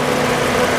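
A 2008 Toyota Yaris with the 2NZ 1.5-litre engine idles, producing a loud, steady low hum for a short moment without any break or change.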